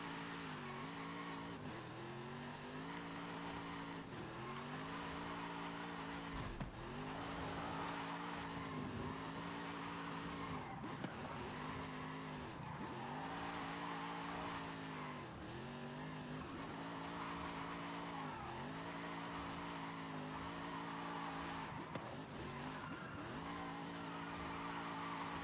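A car in Forza Horizon 5 drifts with a steady, loud engine drone, its pitch dipping and surging again and again as the throttle is worked through slides, punctuated by brief scrapes and clicks.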